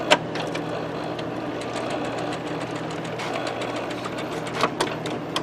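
An Epson printhead shuttles back and forth with the lid held open by an interlock plug during priming through a continuous ink system, giving a steady mechanical whir with small clicks and ticks, close and unbroken.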